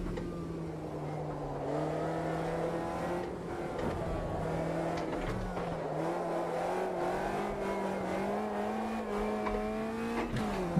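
Caterham race car in the racing game Automobilista 2 at Virginia International Raceway, its engine holding a steady drone with pitch rising and falling through gear changes and corners, a continuous near sound with no talk.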